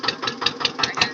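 A farm tractor engine runs steadily nearby at a field, its pulsing beat thumping evenly about five times a second with a rough, knocking character and no talk over it.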